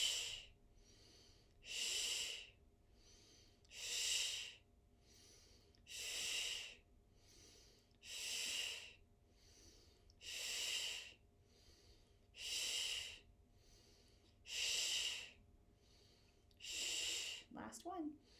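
Mini belly breaths in a breathing exercise for diastasis recti therapy: about ten short, airy, close breaths in an even rhythm, each a soft rushing puff separated by brief quiet gaps.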